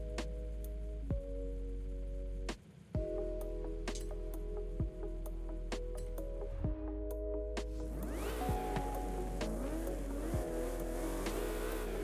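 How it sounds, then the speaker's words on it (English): A car engine in the racing game Forza Horizon 5 idles with a steady hum, then revs up into a loud, rising roar with shifting pitch, no talk. "Oh, it's an interesting sounding engine."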